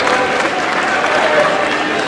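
A sellout home crowd roars through a tense college basketball finish, UMass at George Washington, a loud, steady wall of cheering and applause with no break, filling the whole arena.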